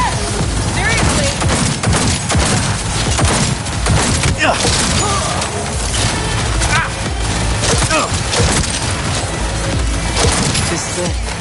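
Rapid turret gunfire bursts in Cyberpunk 2077 crackle and clatter amid crashing impacts, dense and loud throughout, with voices talking over the shooting.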